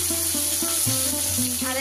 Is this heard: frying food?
yes